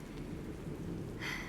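Steady rain falling outside, a constant soft hiss and patter heard from indoors, with a brief brighter swell near the end.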